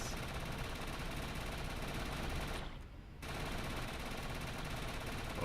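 Blast rifle fire in the sci-fi shooter Defiance: continuous rapid automatic bursts, loud and dense, with a brief pause midway before the firing resumes.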